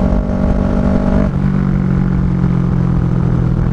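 A Kawasaki Ninja 650R engine, close and loud, holds a steady rev that suddenly drops as it loses power, then settles into a lower, rougher drone.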